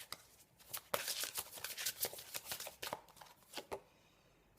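Tarot cards are shuffled for a reading in a rapid series of crisp, riffling flicks and soft slaps, close and fairly quiet, trailing off at the end.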